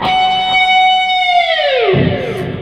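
A bright, bell-like electric guitar harmonic at the fifth fret of the third string rings out and sustains, then the pitch bends downward with a whammy bar as it decays into a distorted rumble.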